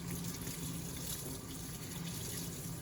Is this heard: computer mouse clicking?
no